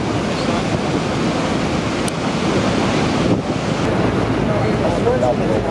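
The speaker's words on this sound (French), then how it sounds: "Niagara Falls, more specifically, is the name of 3 waterfalls: the American, the Bridal Veil, and the Horseshoe Falls." Niagara Falls roars as a dense, steady wash of rushing water with wind buffeting the microphone, loud and unbroken throughout.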